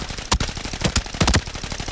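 Assault rifle hip fire in the shooter game Arena Breakout cracks out in quick irregular bursts, sharp loud reports a few at a time with brief gaps, close and alone with no talking.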